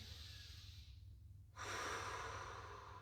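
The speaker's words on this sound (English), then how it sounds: "Big breath in, breathe out, lengthen chin up toward the ceiling" During a Pilates stretch, one slow exhale fades out and is followed by a deep, airy inhale that is close and fairly loud, with no talking.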